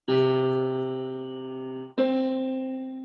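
Two sustained piano notes, the note C, ring out one after another, each struck clearly and left to decay slowly, with no other sounds.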